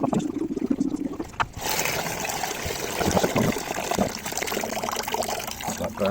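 Vinegar draining away from a brake caliper soak, a steady trickling and gushing flow of liquid that starts abruptly after a quiet moment and runs on continuously, close by, with faint talk in the background.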